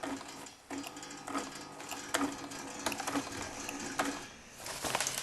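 A sewing machine stitching a seam on a skirt, a fast rattling mechanical whir close up that runs with brief pauses and restarts.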